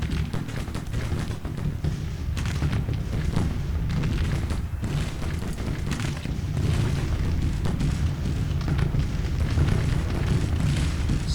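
Continuous booming artillery barrage in a Grand Tactician: Civil War battle at Wilson's Creek, dense rumbling cannon fire sustained and loud throughout with no voices.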